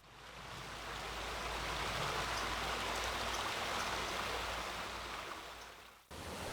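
A creek flowing in Carpinteria, a steady broadband rush of running water that stays loud and even with no voices, then cuts off abruptly near the end.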